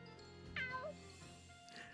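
A kitten meows in the Fire Emblem Three Hopes video game, one short rising-then-falling mew heard close over a quiet, steady musical background with no talking.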